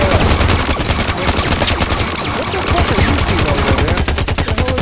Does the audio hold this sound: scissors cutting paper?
no